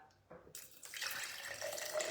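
Filtered water pours into a container. After a few faint knocks, a steady, close splashing stream starts and runs on with no voices.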